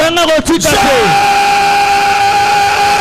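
Loud crowd of worshippers shouting and yelling together during a fervent church service, a burst of overlapping cries at first that settles into a sustained, reverberant roar with a held sung or shouted tone, close and dense.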